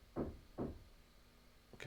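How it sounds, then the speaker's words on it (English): Two quick knocks on a door in the neighbouring flat, spaced about half a second apart, muffled and moderately distant, followed by a fainter third tap. "Someone's knocking on the door."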